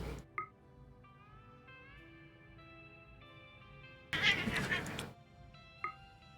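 Cats in RimWorld yowl and hiss in a brief squabble, a loud harsh burst in the middle framed by shorter meows and chirps over quiet background music.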